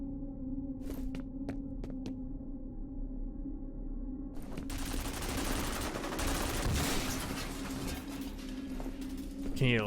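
Distant gunfire rattles from somewhere ahead in the shooter game F.E.A.R.: a few sharp isolated shots come first, then dense, continuous bursts of fire that go on steadily over a low droning hum, with no speech.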